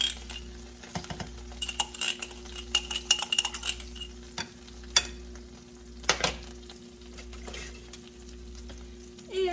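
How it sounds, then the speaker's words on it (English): Butter hits a hot frying pan with a steady low sizzle, broken by scrapes and clinks of a utensil stirring against the metal, close and moderately quiet with no talking. "now I'm gonna take and add some butter"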